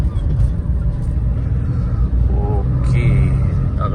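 A car overtakes on a road, its engine rumbling steadily and loudly from inside the vehicle the whole time, with a few faint horn-like tones midway through.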